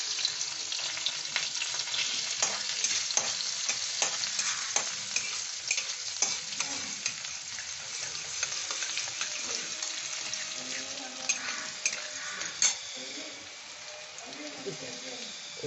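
Chopped garlic sizzles and fries in a pan for a chicken dish, a steady bright crackle with scattered pops and occasional stirring scrapes, close and fairly loud.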